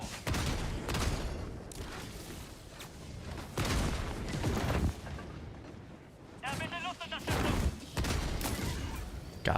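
Repeated gunfire bursts and heavy booms from a turret in Helldivers 2, loud and rapid, recurring across the stretch amid chaotic battle noise with a voice talking over it.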